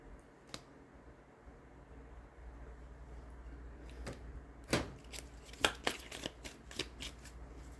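Tarot cards being shuffled by hand, with a few soft riffles early on and then a denser run of crisp, close riffling snaps in the second half, with no talk.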